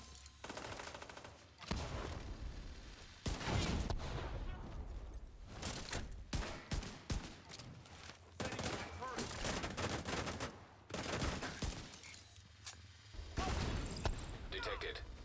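Rapid turret gunfire in The Division 2 rattles in long, loud bursts with brief gaps, mixed with explosions and game effects.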